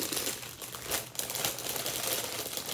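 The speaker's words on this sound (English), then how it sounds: "as you unwrap your sterile gown and your sterile glove" Sterile gown and glove packaging is unwrapped up close, producing continuous crisp crinkling and rustling of paper and plastic with a few sharper crackles.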